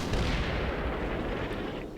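Heavy artillery bombardment in the WWII wargame Combat Mission: Rome to Victory, a dense, continuous roar of overlapping distant blasts and rumbling booms that stays loud throughout without pause.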